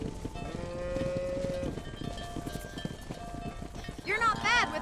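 A herd of cattle is driven along in Red Dead Redemption, with cows mooing now and then over clip-clopping hooves and ambient noise, and a sharp bawl near the end, while people talk.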